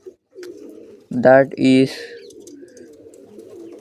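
Pigeons in a coop giving a couple of loud, close coos over a low background hum, with a brief spoken word nearby.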